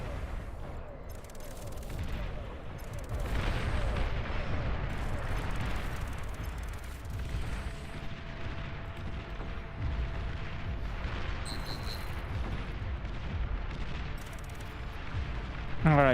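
Artillery in the strategy game Beyond All Reason thuds and booms continuously amid a steady roar of battle gunfire, with some brief speech over the din.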